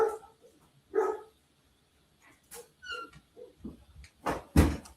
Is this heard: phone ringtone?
no